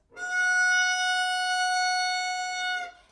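One long bowed violin F sharp, a little higher, held smoothly for about three seconds before stopping cleanly.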